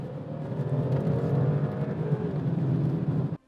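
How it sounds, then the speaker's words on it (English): A 2019 Audi A7 Sportback's 3-litre V6 TFSI engine pulls hard under acceleration, a loud, close, rising engine note with a steady low drone that holds for several seconds, then cuts off abruptly near the end. "There's plenty of punch when you need it, with 250 kilowatts of power available from the 3-litre V6 TFSI when you need to overtake."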